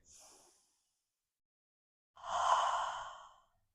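A person breathes out through the mouth twice during a guided breathing exercise: a short soft exhale, a pause, then a longer, louder breath pushed out steadily.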